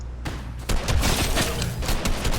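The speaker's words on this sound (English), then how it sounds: "Apparently I'm shot at." Bursts of gunfire in the Fortnite video game, a dense, sustained volley of overlapping shots that thickens after the first half-second and continues loudly to the end.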